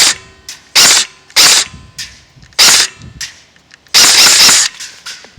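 Krytac MKII CRB airsoft electric rifle firing single shots in semi-auto, five sharp, loud, close cracks spaced unevenly about a second apart, the last one longer, with quiet gaps between and no talking.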